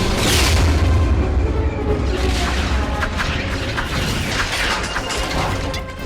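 Missiles blow up during a Star Wars space battle, with heavy booming blasts, rumble and metallic crackling filling a dense, loud soundtrack from start to finish.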